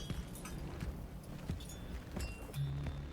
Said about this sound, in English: Even the footsteps. Crispy footsteps.